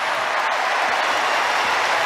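Steady applause from the crowd at Wimbledon Centre Court during a women's singles match. It is dense and continuous with no breaks, and faint commentary may sit underneath.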